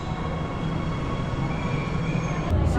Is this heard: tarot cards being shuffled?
no